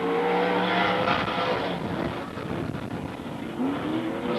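Dirt track race cars, including a big Mopar modified, roar past at Magic City Speedway in Billings, a loud, dense engine drone with rising and falling revs that swells as the cars pass.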